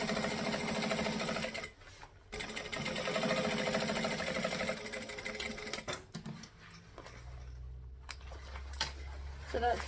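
A sewing machine top stitches through all the layers of a travel bag, running in loud steady mechanical bursts. Two short pauses break the run before the machine settles into a slower, lower hum near the end.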